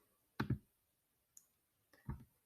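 Mouse clicks on a software installer's Next button during a SQL setup, a few crisp close clicks in pairs separated by quiet, with a faint tick between them.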